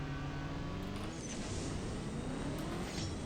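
An AMG G 63 engine roars without a break in the CSR2 racing game, loud and close as it pulls through gear shifts.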